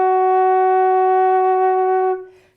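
A single sustained flute note, F sharp, held clear and steady for about two seconds before fading out, alone with no talk.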